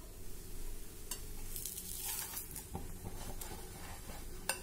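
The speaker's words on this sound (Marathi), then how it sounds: "आता मंद गॅसवर दोन्ही बाजूनी पलटून पलटून ही दशमी अगदी खमंग होईपर्यंत आपल्याला भाजायची आहे" A thick dashmi flatbread roasting on a pan over low gas, giving a soft, steady sizzle with occasional light scraping and ticks from turning it, close and fairly quiet.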